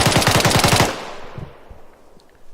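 Video game gunfire during infantry training: a rapid, loud burst of automatic fire lasting about a second, then a fading echoing tail with a few faint scattered pops.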